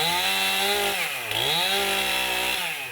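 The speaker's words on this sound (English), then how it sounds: "We didn't think we'd be out here with chainsaws." Chainsaws roar while clearing trees fallen onto a nature-preserve boardwalk after storm damage, the engine pitch dipping and rising as a saw bogs into the wood and revs again, loud and close throughout.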